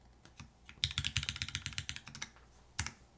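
Typing on a computer keyboard, a quick run of crisp, close key clicks with a few scattered taps before and after; quiet, with no voices.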